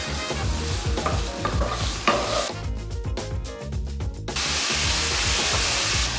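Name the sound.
pancetta sizzling and browning in a pan for carbonara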